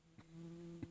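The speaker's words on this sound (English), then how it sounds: "In case you love the sound of yellow jackets flying around microphones, he really won't leave this" A yellow jacket wasp buzzes close to a microphone in a brief, steady drone with two sharp flutters as it bumps near.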